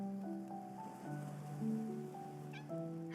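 A kitten in the Love and Deepspace video game gives soft, drawn-out meows at a low level, set against gentle tonal game background music.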